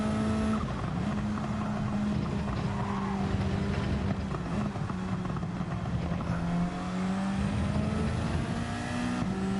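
A race car in Gran Turismo 7, during a Nations series race, skids under a steady, loud engine drone, with faint tire squeal running through the continuous sound.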